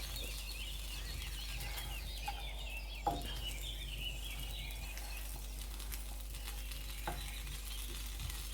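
Cheese melts and sizzles in a pan over a low gas flame for Korean street toast, a steady close frying hiss with occasional soft scrapes and clicks and no voices.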